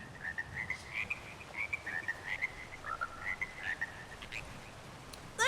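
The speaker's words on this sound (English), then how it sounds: "Look, the frogs are coming back!" Frogs in the Elder Scrolls Online game croak in a steady series of short, repeated calls over a quiet ambient bed, moderately faint and with no talk.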